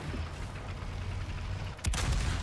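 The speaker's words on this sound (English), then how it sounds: "Oh, I just missed that shot." A tank cannon fires once in a tank video game, a sudden sharp boom cutting through a constant rumbling engine and battlefield drone, close and loud, with no voices.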